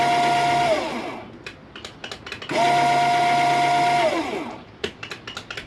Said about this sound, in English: Windshield vent, let's see if it opens.